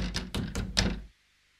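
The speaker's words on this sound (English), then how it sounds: "The guard opens the T-van door" A guard opens a sliding railway van door, with a quick series of heavy rattling thunks and a scrape, close and loud, then a sudden stop into silence.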